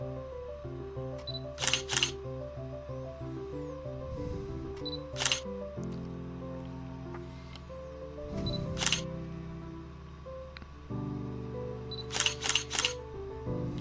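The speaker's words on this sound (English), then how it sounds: "I'll just have to set the shutter speed to a real slow setting" A camera shutter set to a slow speed on a tripod makes sharp mechanical clicks in several clusters, some doubled, over a steady tonal background of music or hum. No voices are heard.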